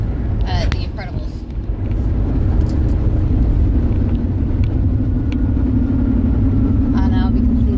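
Loud, steady low rumble of a car driving, its cabin shaking on worn suspension, with a continuous road drone throughout and brief faint speech-like sounds near the start and end.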